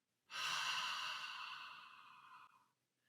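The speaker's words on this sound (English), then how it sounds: "if you do these really exaggerated type of breaths" One long, exaggerated exhale through the mouth, breathy and airy, starting abruptly and slowly fading over about two seconds, heard close and alone.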